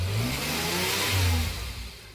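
An Oldsmobile Dynamic 88 classic car engine revs loud and close, its rumbling pitch swelling and easing over two seconds with no voices.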